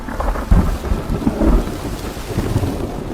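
Rolling thunder with steady rain during a storm, deep rumbles swelling and fading over continuous rainfall, fairly close and loud, with no voices.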